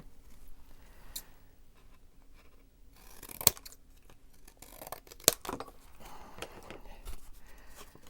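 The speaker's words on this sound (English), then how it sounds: "And this top piece has to be cut." Scissors snip through paper for a junk journal, a quiet series of close, crisp cuts in irregular bursts, with two sharp louder snips standing out.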